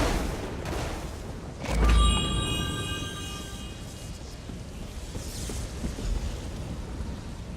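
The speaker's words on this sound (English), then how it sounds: "You get the lightning! Now you get the lightning!" Lightning strikes in The Elder Scrolls Online: a single loud, low crackling boom with a ringing metallic shimmer, fading into a long rumbling tail of rain-like hiss and a softer second swell.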